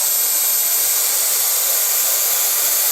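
A hair dryer blows hair dry with a loud, steady, close-up rushing whoosh that holds level and unbroken throughout, with no voices.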